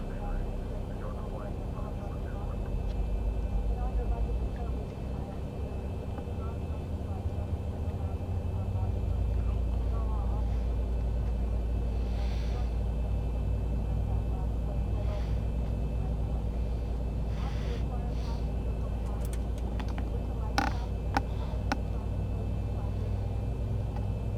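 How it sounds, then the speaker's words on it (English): Boeing 737 engine number 2 spooling up in the X-Plane 11 flight simulator, a steady low rumble that grows louder partway through and holds as a continuous drone, with faint clicks and cockpit noises over it. "we can start engine number 2"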